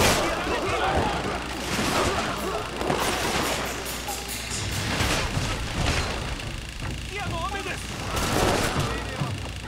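Musket gunmen firing in a Shogun 2 battle, a busy stream of cracks and booms over a continuous battlefield din, with speech faintly mixed in.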